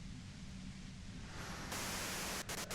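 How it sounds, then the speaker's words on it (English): A compressor in Disco Elysium gives off a steady wash of hissing white noise that stays loud and even and brightens partway through, and no one speaks over it. "you can do it through the white noise."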